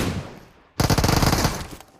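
Automatic gunfire in PUBG Mobile on the Livik map comes as a loud, dense burst of rapid shots after a brief quieter stretch, then trails off near the end.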